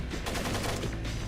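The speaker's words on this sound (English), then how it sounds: "I hear him shooting, but I don't see anyone." Enemy gunfire in the stealth game Tom Clancy's Splinter Cell, a loud rapid burst of shots packed close together over a dense noisy backdrop, with no talk.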